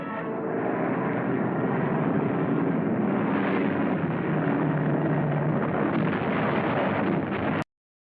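Archival WWII air bombardment roars on without pause, with droning aircraft engines and repeated heavy explosions blending into a loud, dense rumble that cuts off abruptly near the end.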